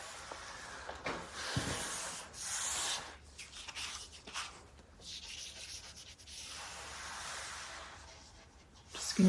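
Cloth rubbing diluted wood stain, thinned with lacquer thinner, off new wood veneer, a close, soft, breathy scrubbing in uneven strokes with short pauses between passes.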